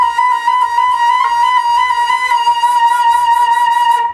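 A flute sustains a long B flat played with the sliding thumb key technique, one steady, clear tone held for about four seconds with a slight fluttering wobble toward the end.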